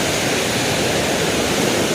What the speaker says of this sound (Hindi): पानी में बहुत ज़्यादा फ्लो है भाई।